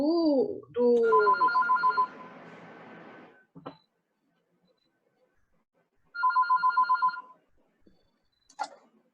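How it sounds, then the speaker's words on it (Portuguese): Telephone ringtone from an open microphone during an online class, a repeating electronic trill that rings in two bursts with a pause between, fairly close and clear, with brief knocks and rustles near the start and end. "quem tá tocando telefone aqui?"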